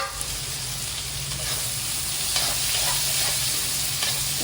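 Onions and green chillies fry in leftover oil from earlier fried pieces, a steady close sizzle with light stirring scrapes running throughout, no voices.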